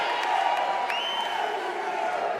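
A large arena crowd at an SFT Combat featherweight championship fight cheers and roars in a steady, loud wash of voices, with a few whoops and a whistle rising above it.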